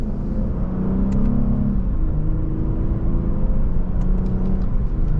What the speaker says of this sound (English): And just a mild acceleration.